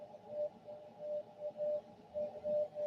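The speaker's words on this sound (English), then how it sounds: "We can hear the Morse code of the M12 number station out of spy number station out of Moscow, Russia" Morse code from the M12 Russian spy number station out of Moscow comes over shortwave radio as a thin, steady tone keyed in short and long beeps, half-buried in hissing, fluttering static.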